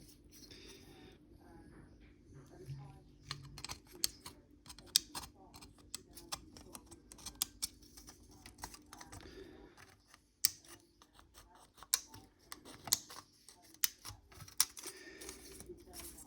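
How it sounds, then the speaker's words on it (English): Sharp clicks and snips of plastic parts being cut from an M1A1 Abrams model kit sprue, hull and track pieces, scattered irregularly and close up over a low steady hum, with no talking. "Then I'll cut out the lower section of the hull."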